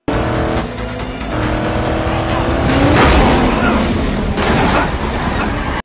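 A car peels away at speed during a police chase, loud revving engine with squealing tires and a burst of skidding noise near the middle, continuous and close, with voices mixed in.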